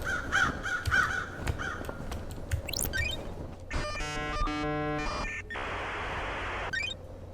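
Crows caw in the Paradise Killer game, several harsh calls over a low ambient drone, followed by electronic chimes and game sound effects; moderately loud with no talking.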